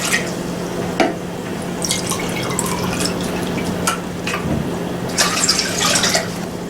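Water running into a cooking pot at the start of a pear stew with raisins, a steady stream with scattered drips and splashes under a faint constant hum, no talking.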